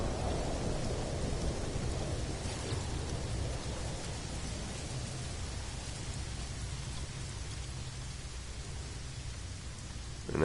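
Steady rain pouring with a low rumbling thunderstorm in the video game No Man's Sky, a dense continuous wash of sound at moderate loudness, with no voices.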